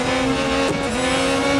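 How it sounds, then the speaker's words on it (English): A fully upgraded McLaren in a racing video game, its engine droning loudly at high revs with a steady tonal whine, a brief dip and shift partway through, then holding steady. "I'm driving a fully upgraded McLaren here"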